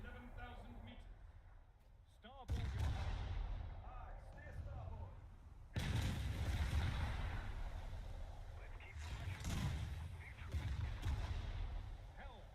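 Booming naval gunfire directed at a US Navy ship in War Thunder's naval battles, several heavy bursts spread across the stretch, low rumbling and moderately distant, with a voice speaking over them.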